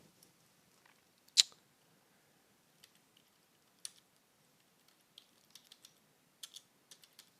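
Sparse, quiet clicks of keys on a computer keyboard, irregular and isolated taps with one louder click early on, in an otherwise silent room.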